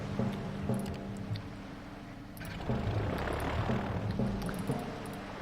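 Piston-engined fighter and bomber planes droning in the naval combat video game Victory At Sea, a steady low propeller hum that swells midway as aircraft pass close, continuous throughout.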